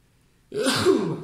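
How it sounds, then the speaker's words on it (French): A single human sneeze bursting out after a moment of near silence, a sharp breathy explosion that trails off, close to the microphone. "j'ai éternué"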